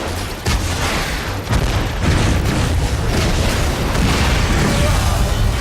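Robots are shot in the PC first-person shooter Hard Reset, with a constant dense barrage of loud gunfire and booming explosions that fills the whole stretch without a break.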